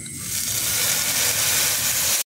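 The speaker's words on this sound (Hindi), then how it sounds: "तापर आम मसला को 2 मिनिट तेल रे छाड़ा भल से सीझापी" Spices frying in hot oil give off a loud, steady sizzle and hiss that builds over the first half second, holds evenly, then cuts off abruptly.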